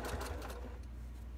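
Home sewing machine stitching fabric, a fast rattling whir near the start that settles into a low steady hum.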